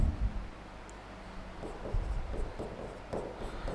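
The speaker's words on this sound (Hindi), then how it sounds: "और यहां पर भी मैं लिख देता हूं" Marker or chalk strokes scratch across a classroom board while notes are written, a close, quiet series of short rubbing squeaks and taps in an irregular rhythm with no talking.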